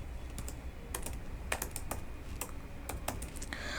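Keystrokes on a computer keyboard while a table of names and cities is entered for an HTML lesson: a run of sharp clicks in short irregular bursts, close and fairly quiet over a faint steady hum, with no talking.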